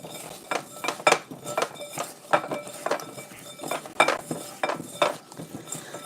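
Meatloaf mixture with garlic, garlic powder and Italian seasoning being stirred in a bowl, with a rhythmic series of utensil clinks and scrapes against the dish, close by, no talking.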